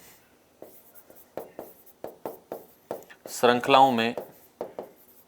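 Quick strokes of chalk or marker writing on a board during a chemistry lesson, short scratchy taps in an uneven rhythm, with a voice speaking briefly partway through.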